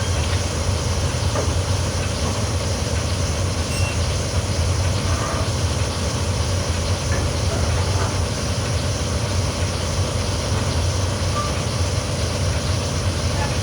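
A BR18 steam locomotive running in Train Simulator on the Koblenz–Trier line, a loud continuous rumble and hiss with steady low-frequency drive and no clear pauses throughout.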